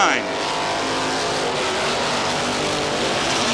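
NASCAR Modified race cars racing at Star Speedway in 1990, one car smoking its right rear tire, make a loud, continuous engine roar and drone that holds steady throughout. An announcer talks over the din.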